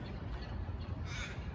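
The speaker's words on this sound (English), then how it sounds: "There's the cockies there." Cockatoos gather on a roof near bins at their feeding ground, giving harsh, screeching calls that overlap in a steady, dense chorus at moderate distance with no talk.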